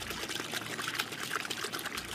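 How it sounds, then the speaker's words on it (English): Steady rush of running water gushing from burst pipes amid the ruins of a burned-out Southern California beach neighborhood, a continuous, fairly close pouring and trickling with no voices. "the sound of running water in a drought-parched landscape is from burst pipes"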